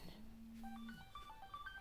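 Electronic tones from a phone, a sustained low tone followed by a series of short beeps at varied pitches, quiet and close, with no voices.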